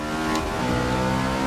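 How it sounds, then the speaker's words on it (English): A NASCAR race car in Forza Motorsport 6 spins its wheels under hard acceleration, the engine revving loud and close with a rising harmonic whine and a brief tire squeal. "See, all that wheel spin's actually pretty bad."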